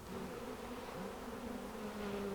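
Honey bees buzzing around a hive kept on an island, a continuous droning hum with wavering pitch, close and steady with no talking.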